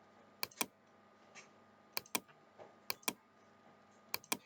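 Someone types the command sudo reboot on a computer keyboard: sharp keystroke clicks in quick pairs and small clusters, separated by brief pauses, close and clear with no talking.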